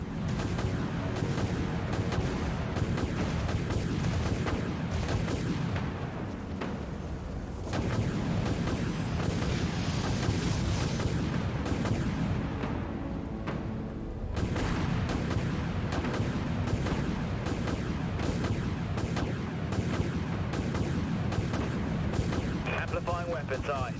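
Warship missiles firing in the video game Dread Nothing, a dense continuous barrage of booming blasts and rumbling explosions, dropping out briefly twice before resuming, with voices talking over the din.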